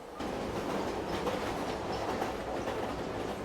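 A train in the video game Silent Hill 3 rolls along its tracks with a steady, dense rumble and faint rhythmic clacking that holds at an even level throughout.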